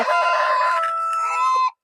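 A rooster crows once, loud and close: one sustained, tonal call that holds for over a second and a half before cutting off abruptly, with no voices over it.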